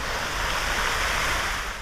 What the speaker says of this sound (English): We can see that they have a nice water fountain here.